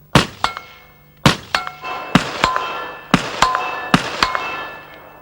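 Standard 5.56mm rounds strike an armor plate backed by two steel witness plates at a 100-meter range, giving sharp ringing metallic impacts in irregular bursts of two or three, loud and close with resonant clangs decaying between hits.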